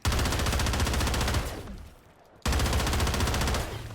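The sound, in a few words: video game HRM9 gun firing neon green tracers, ray-gun sound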